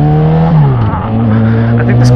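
Car engine revving loudly nearby on a Dallas neighbourhood street, a rising and falling harmonic drone with shifting pitch as it passes, someone talking over it inside a vehicle.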